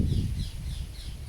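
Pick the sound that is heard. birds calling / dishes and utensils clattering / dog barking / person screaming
birds calling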